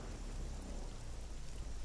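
Rain falling steadily on a mountainside, a soft continuous wash of drops at moderate distance with no voices.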